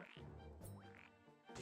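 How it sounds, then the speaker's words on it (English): Frogs croak in a video game, a few quick squelchy croaks and chirps in close succession, faint and alone with no talking. "Ah, stupid frogs."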